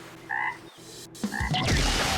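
A toad croaks a couple of short, throaty times in an animated ninja battle, followed by a rushing, noisy blast as the fight continues.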